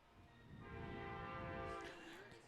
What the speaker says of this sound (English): We have our first train of the night, I think. Our second train. Coming from left field to right field